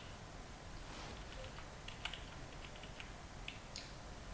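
Fingers tap steadily on a computer keyboard, a quiet run of light, irregular clicks with a few sharper strokes, heard alone against low room noise.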